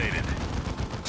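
Rapid gunfire from the video game Dawn of War 2, shots fired through a floor, forms a dense, continuous rattling burst throughout, loud and close, with no pause.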